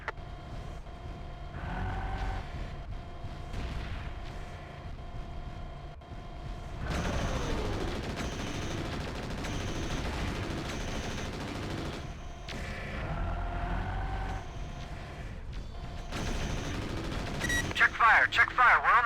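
Gunfire from mechs in the video game Mechwarrior 4 Vengeance, steady rapid bursts of mechanical shooting that persist over a background engine hum and build to louder blasts near the end, with radio voices talking over parts of it.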